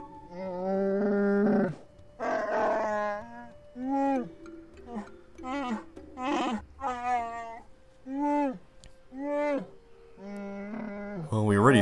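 A Wookiee in the Knights of the Old Republic game speaks in a run of growls, howls and rising moans, voiced in repeated bursts with short pauses, loud and close.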